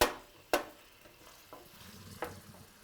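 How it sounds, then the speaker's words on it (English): A wooden spoon breaks up oily canned tuna in a hot pot, giving a few sharp scraping knocks against a soft sizzle with no talking. "And we break the tuna."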